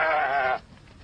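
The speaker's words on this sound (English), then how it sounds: "Goats feed on the trash" A single goat lets out one loud, close bleat lasting about half a second at an e-waste dump in Ghana, with quiet background afterward.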